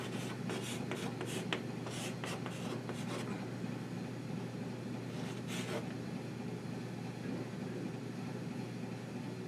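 A pen scratches out quick handwriting strokes in a cluster near the start and again briefly later, faint over a constant low room hum, and nobody speaks.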